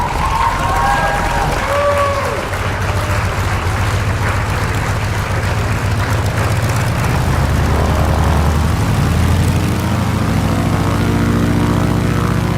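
A vintage propeller aircraft lands on a Papua New Guinea bush strip in a flight simulator, its loud, continuous engine drone and propeller roar steady throughout with a rumbling low end and slight pitch changes.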